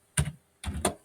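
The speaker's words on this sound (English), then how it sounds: "I can't see what I'm typing" Keys clacking on a computer keyboard, two short bursts of quick close taps separated by a brief pause, crisp and alone without talk.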